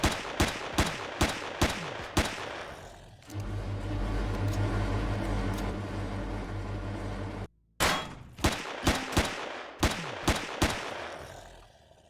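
Junk rifle gunfire in the video game Empyrion Galactic Survival: a run of sharp, spaced single shots, then a loud sustained rumbling stretch, a brief silence, and another burst of separate cracking shots.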